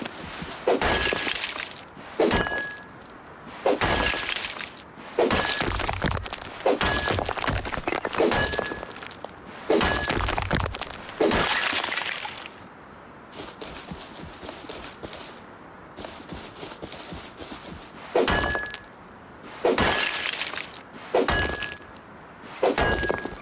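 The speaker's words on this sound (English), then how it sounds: "if you're not worried about hitting the rock so much, you can kind of look around" Repeated sharp cracking strikes of a tool against a rock while mining in the video game Rust, each with a bright metallic ping, landing in a steady rhythm about every second and a half, with a short pause midway and no talking.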